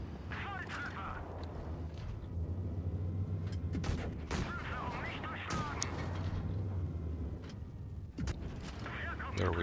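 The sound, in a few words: tank gun firing at enemy turret, from a video game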